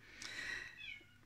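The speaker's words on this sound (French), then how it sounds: "pendant que le chat est en train d'hurler parce qu'elle a fait caca" A cat howls in a drawn-out, rising and falling meow, heard close but quiet, lasting about a second, then a brief softer trailing cry.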